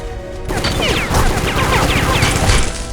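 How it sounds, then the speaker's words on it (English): Sustained automatic fire from an unmanned turret station in the game Secret Service, a loud close burst of rapid rattling shots that starts abruptly and keeps hammering steadily for a few seconds. "drawing fire from an unmanned turret station"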